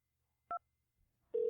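A short touch-tone keypress beeps once on a telephone while choosing a phone-menu option, followed after a pause by a longer steady tone. The sound is clean and quiet, with no talk.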